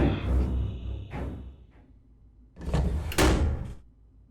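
A door opening in the horror video game Corrosion: Cold Winter Waiting, heard as two heavy creaking, thudding bursts separated by a quieter pause, loud and close with no talk.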